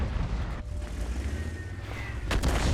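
Artillery fire in World of Tanks, a dense rumbling barrage of booms and distant gunfire rolling continuously, with a sharper blast near the end.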